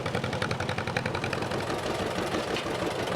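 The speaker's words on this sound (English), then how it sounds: "Nebraska, for example, is driving a John Deere Model A." A John Deere Model A farm tractor, built between 1934 and 1952, runs with a loud, steady engine close by, its rapid rhythmic chugging continuous throughout.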